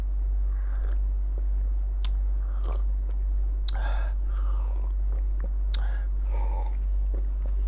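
Black cumin seeds (habbatus sauda) are chewed close to the mic, giving irregular crisp crunches and clicks with soft mouth noises over a constant low rumble.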